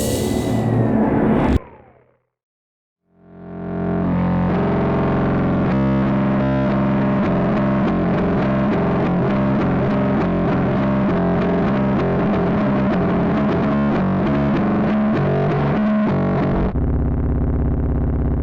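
Heavily distorted, effects-laden soundtrack: a short loud burst that cuts to silence, then a dense, harsh, sustained wall of processed tones swelling back in and holding steady before ending in a duller noisy drone.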